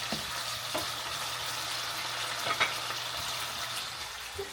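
Tomatoes fry in oil in a pan for pinakbet, giving an even, moderate sizzle and crackle with a few brief clicks of a utensil against the pan, and no voices.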